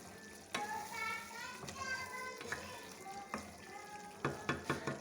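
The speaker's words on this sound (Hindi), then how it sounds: "अब हम अपने फ्लेम को थोड़ा सा हाई करेंगे और अच्छे तरीके से चिकन की बुनाई करेंगे।" Chicken pieces sizzling and frying in a pan over a high flame for tikka karahi, a steady crackling hiss broken by sharp clanks of stirring, with children's voices faintly in the background.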